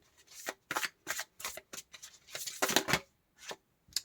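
A guardian angels tarot deck being shuffled by hand: a quick run of crisp riffling bursts, close and clear, with short pauses between, and no talking.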